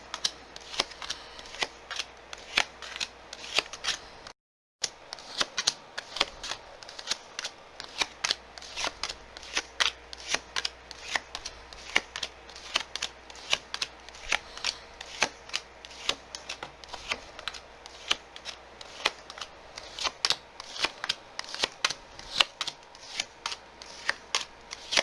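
Tarot cards being shuffled and laid down, a dense stream of close, crisp riffling flicks and snaps repeating steadily at moderate volume, broken by one brief silent gap, with no talking.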